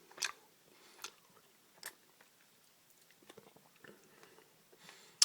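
Close, quiet chewing of a Charms Super Blow Pop blue razz lollipop's candy and gum, a handful of distinct crunchy bites spaced about a second apart with soft mouth sounds between, no talking.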